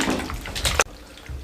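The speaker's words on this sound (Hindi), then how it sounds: "इसको अच्छे से पानी डाल के अच्छे तरीके से इसको वॉश कर लेंगे" Oranges being washed under running water, a splashing, gurgling wash that stops abruptly partway through, followed by quiet.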